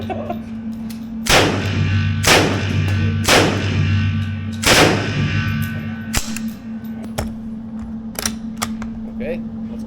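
An old Russian automatic weapon at a shooting range fires four sharp, loud single shots about a second apart, then falls silent apart from a few small clicks and a steady background hum.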